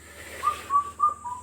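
A bird whistles a series of four clear, separate notes, each slightly lower than the last, moderately close over quiet background hiss, with no talking.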